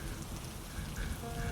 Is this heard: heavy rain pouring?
yes